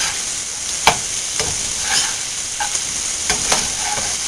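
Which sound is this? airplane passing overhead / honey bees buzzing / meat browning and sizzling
meat browning and sizzling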